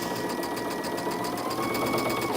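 A sewing machine stitches quilt block pieces for star blocks, its needle running in a fast, even, continuous rhythm close by with no talking.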